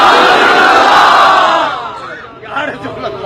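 A large crowd at a religious conference loudly chants the slogan Ya Rasool Allah in unison, a dense roaring wave of many voices that swells then fades into scattered trailing shouts.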